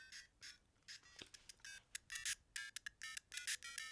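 Super Mario Bros game sounds from a GameBoy: a string of short, bright electronic chiptune blips and jingle notes in uneven bursts, fairly quiet, with no talking.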